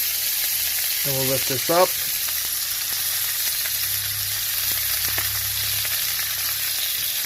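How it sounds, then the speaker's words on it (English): Steak sizzles steadily in a pan as it is basted with fresh herbs, a constant bright frying hiss running throughout, with a brief spoon scrape and a short spoken phrase near the start. "As we baste, we're just going to take our spoon."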